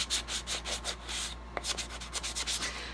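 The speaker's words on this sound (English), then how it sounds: "now I'm going to sand it a little bit more to help lighten it up some." Sandpaper rubs over a wooden paintbrush handle in quick back-and-forth strokes, lightening the finish of the altered brush; the steady scratchy rhythm runs close and continuous, with a brief pause partway through.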